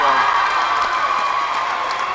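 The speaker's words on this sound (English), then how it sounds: "Crowd goes wild once more." A crowd at a high school basketball game in a fieldhouse cheers loudly, a sustained roar of shouting voices that holds steady from start to finish.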